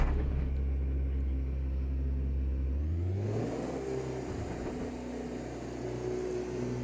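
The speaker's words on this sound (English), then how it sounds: "I'm used to the electric motors whining when you accelerate pretty hard, but this mixed with the brutal sound of the V8 that it has" A Porsche 963 LMDh race car in AMS2, its V8 engine roaring under hard acceleration with an electric motor whine mixed in. A deep low drone shifts upward midway as the pitch climbs, sustained and loud with no talking.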